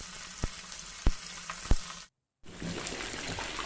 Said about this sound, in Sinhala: මේ විදිහට විනාඩි 4ක් විතර chicken ටික බැදෙන්න ඕන